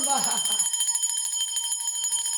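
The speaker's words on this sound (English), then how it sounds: "I'm ringing the bell to scatter any dark forces that may be present" A bell is struck once to drive off dark forces, its bright metallic tone with steady high overtones ringing and slowly fading over a couple of seconds while a voice talks over it.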